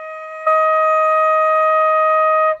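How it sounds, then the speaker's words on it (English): A flute sustains a single E flat, a pure steady tone that starts cleanly after a short silence and holds evenly before stopping, played alone and close by. "E flat will sound like this"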